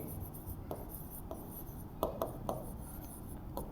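A marker scratches across a board in a grammar lesson, a quiet run of short strokes with a few sharper taps near the middle, alone without talk.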